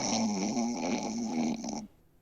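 A person's voice mimics a sleeping character's snoring in a tabletop role-playing session: one drawn-out, buzzy, nasal snore of nearly two seconds, close and fairly loud, that breaks off sharply into near silence.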